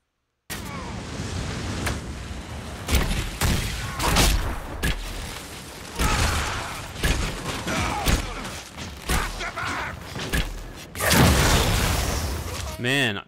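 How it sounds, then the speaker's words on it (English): Fire magic in the fantasy role-playing game Dragon Age Inquisition goes off in repeated thumping bursts and booms amid combat noise, loud and uneven in rhythm, with someone talking over parts of it. "that fire magic is awesome"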